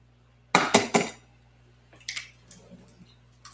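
Eggs cracked into a pan for a sausage omelet give a quick burst of sharp cracks and taps, followed by softer, scattered clicks and knocks.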